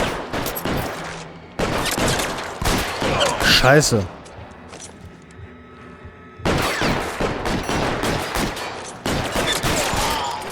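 Bursts of gunfire crackle in a shootout in the video game L.A. Noire, several rapid volleys separated by short lulls, loud and close, with a man swearing briefly among the shots.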